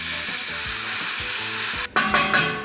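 White wine vinegar hits a hot pan with bacon drippings, a loud close sizzle and hiss that swells after a brief gap, with stirring scrapes under the frying noise and no voices.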